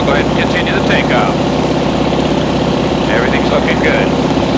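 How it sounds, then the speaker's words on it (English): A North American propeller aircraft engine at full takeoff power roars loudly and steadily from inside the cockpit, a droning buzz with chattering radio or intercom voices layered over it. "I'll go ahead and continue the takeoff"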